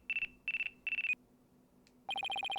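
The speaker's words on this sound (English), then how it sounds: "It looks like I have a phone call." A phone rings in the Phoenix Wright: Dual Destinies game with three short electronic trilling bursts, then a pause and a faster run of chirping beeps, crisp and synthetic over a faint background hum.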